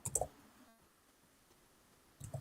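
A few crisp computer mouse clicks, one short cluster at the start and another near the end, close and faint with near silence between.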